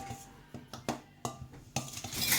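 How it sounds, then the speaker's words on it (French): A spoon clinks and scrapes against a bowl while stirring sugar into chocolate cake batter, giving about eight irregular, close, sharp taps over a soft background. "Maintenant qu'on a mis le sucre, on va commencer à mélanger tout ça."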